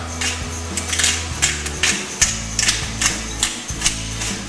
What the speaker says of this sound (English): But I will give it a good lashing of cracked black pepper.